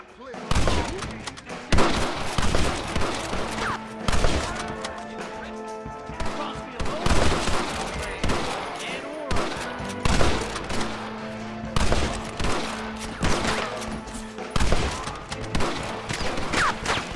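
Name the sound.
gunfire in the video game Red Dead Redemption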